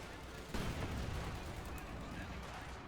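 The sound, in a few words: Katyusha and mortar fire in video game Company of Heroes 2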